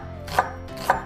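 Kitchen knife slicing through an onion on a cutting board for a chicken stir fry, two crisp chops about half a second apart, close and distinct, with no talk.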